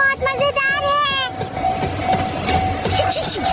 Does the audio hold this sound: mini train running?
yes